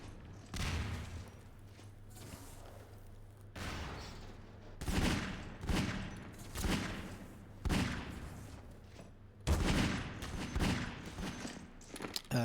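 Gunfire in Half-Life 2 Deathmatch during a one-on-one match, bursts of rapid shots separated by short gaps, several volleys of sharp, busy reports with mechanical clatter in between, no talk.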